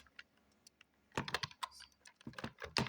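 Keys on a computer keyboard are typed in irregular bursts of crisp clicks, quiet and close, with short pauses between clusters of keystrokes and no talking.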